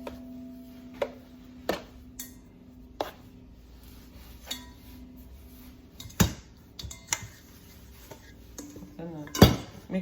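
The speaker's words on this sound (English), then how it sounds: "So I'm going to grease this bowl with some sunflower oil" Sunflower oil is spread around a bowl for cinnamon roll dough, heard as scattered close clinks and knocks of a utensil against the bowl between quiet pauses.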